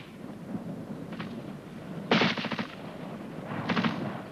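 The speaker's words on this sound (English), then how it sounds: "The time between the crack and the thump gives an indication of the range." Gunfire on an army training range, heard as two separate bursts of sharp cracks followed by duller thumps, fairly loud against a steady outdoor background, with a fainter shot before them.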